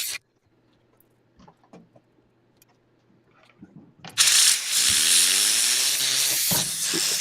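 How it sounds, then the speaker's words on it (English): A dusty Mac SE fan is blown clean: after a few quiet clicks and handling sounds, a loud sustained air blast and hiss starts abruptly, with a whirring fan tone rising and shifting in pitch underneath. "I am trying to dust this very dusty Mac SE fan."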